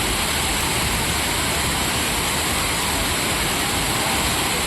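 Water gushes and roars at Thiruparappu waterfall in Kanyakumari, a dense, loud, unbroken rush of falling water that fills the scene without a pause.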